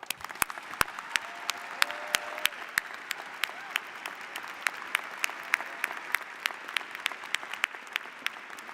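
An audience at a graduation ceremony claps steadily for the graduates, a dense, even patter of many hands with a few sharper individual claps standing out, with no speech over it.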